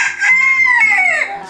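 A rooster crows loud and close in a backyard chicken coop, one long drawn-out call rising and falling over about a second and a half, with no voices.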